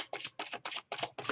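A deck of tarot cards is shuffled in five quick, even riffling bursts separated by short pauses, close and fairly faint.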